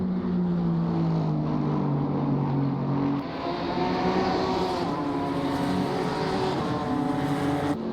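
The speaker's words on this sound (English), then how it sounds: "Chris Saunderson in the Audi, just ahead of the 54 Aston Martin, as he is in the lead pack of cars to go out and set their first valid" GT4 race cars, an Audi and an Aston Martin, roar around Snetterton circuit, engines holding a loud sustained drone with tones shifting as they pass and shift gears, no voices over them.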